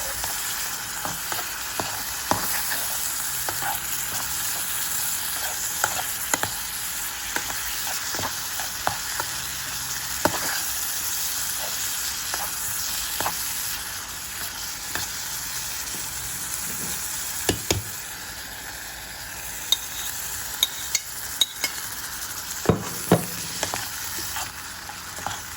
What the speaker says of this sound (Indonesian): Aduk sampai semuanya merata